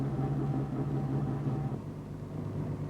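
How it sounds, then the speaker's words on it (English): A 1961 Ford Zephyr/Zodiac with automatic transmission pulls away with a low, steady engine rumble that eases off slightly toward the end as the car slows, moderately loud and close. "Release the brake, accelerate gently, and off you go. Lift your foot, and you slow down."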